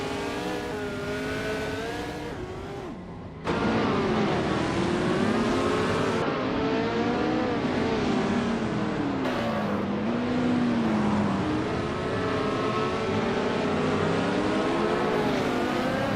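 Race cars from a racing video game drone side by side, their engines shifting pitch continuously with revving and gear changes, loud and close throughout with a brief dip in level early on.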